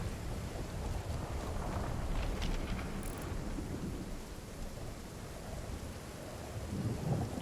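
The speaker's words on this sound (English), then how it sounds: "it is stormy over here" A thunderstorm rages in a video game: dense, steady rain with rolling thunder and wind, continuous and fairly loud, with no voices.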